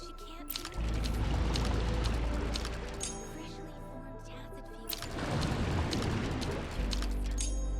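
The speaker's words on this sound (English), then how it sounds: "The water level has dropped." Water draining in the video game Wuthering Waves, a loud, steady rushing pour with a low rumble that pauses and resumes under game music and a voice.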